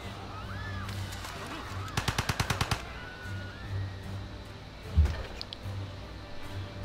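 Gatling gun fire in the video game Civilization V, a rapid burst of about eight evenly spaced shots, followed a few seconds later by a single heavier thump, over soft game ambience.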